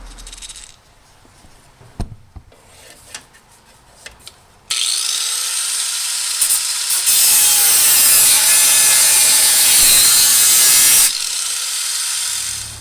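An angle grinder with a cutting disc bites into metal on a Cub Cadet repair, first some scattered clanks and taps, then a loud sustained high-pitched scream of cutting for about six seconds before it eases off.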